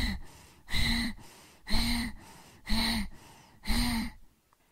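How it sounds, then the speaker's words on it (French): Bhastrika bellows breathing from yoga practice: four forceful, evenly matched breath cycles in a steady rhythm, each a loud rushing inhale and exhale close to the listener, ending in silence. "Il est légèrement différent de Kapalabhati en ce sens que inspire et expire sont de même"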